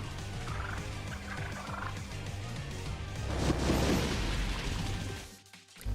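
Rapid turkey-like gobbling from a bird enemy in the video game Soul Hackers 2 repeats over steady game music, followed by a louder burst of battle effects near the end.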